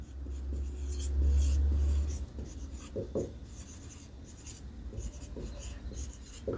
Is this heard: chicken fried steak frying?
no